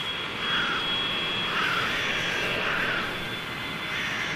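Cargo planes at an African airfield, their engines a steady, loud broadband roar that holds for the whole stretch, with slight swells in intensity and no voices.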